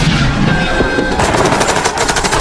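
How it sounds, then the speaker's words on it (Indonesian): Dense automatic gunfire crackles throughout a Vietnam War film battle scene, with rapid rounds hammering continuously at close range and a busy wash of shots filling the whole stretch. "Joker terpaksa melepaskan peluru full metal jaketnya untuk membantu rekan-rekannya mencegah musuh memasuki markas ini"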